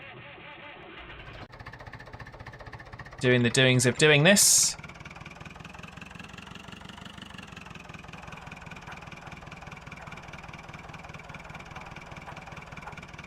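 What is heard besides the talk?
tractor engines running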